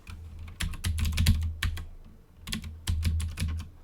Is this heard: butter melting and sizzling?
no